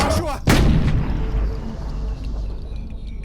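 A single loud, close gunshot from a handgun in a film scene, its boom trailing off into a rumbling tail and low background noise.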